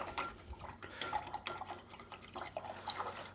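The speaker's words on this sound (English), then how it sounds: "I've got to wash that brush." A paint brush being rinsed in a water container, with soft splashing, drips and light clinks of the brush against the container, fairly close and steady.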